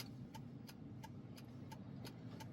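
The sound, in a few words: 2016 Jeep Willys driving in stop and go traffic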